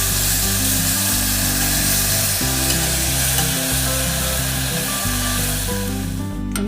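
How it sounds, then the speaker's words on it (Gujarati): Ginger, chili and tomato paste sizzles loudly in hot oil in a pan, with steady crackling frying noise and the scrape of a spoon stirring, no talking. "અહીંયા મેં જે પ્યોરી આપણે પેસ્ટ બનાવી હતી આદુ મરચાં ટામેટાની તે એડ કરી દઈશું અને આપણે એને ચમચા વડે મિક્સ કરી લઈશું"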